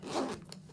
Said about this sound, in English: YKK zip.